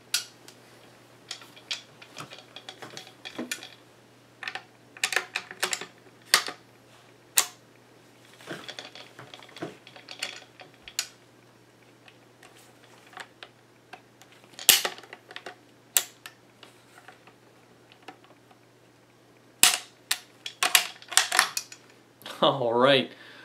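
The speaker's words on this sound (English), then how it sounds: "put the bolt head back onto the bolt assembly and to reinstall it onto the firearm" Metallic clicks and scrapes as the bolt head goes back onto the bolt assembly and the bolt is reinstalled and finger-tightened in a Lee-Enfield No. 4 Mk I rifle. The light taps and clinks come at irregular intervals, close up, with no talk.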